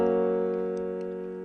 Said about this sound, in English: So you know that F sharp sounds like this.